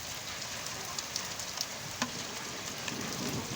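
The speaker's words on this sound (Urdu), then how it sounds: "برسات ہو رہی ہے۔" Heavy rain in Mandi Bahauddin, Pakistan, a steady broadband hiss of falling water with a few sharper drop taps; a faint thunder rumble is at most implied under the downpour, with no voices.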